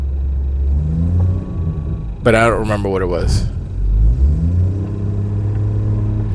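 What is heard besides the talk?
car engine rattling while driving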